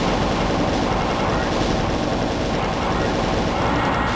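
A plasma gun in Doom fires continuously in a steady, loud, rapid stream with no break for the full stretch.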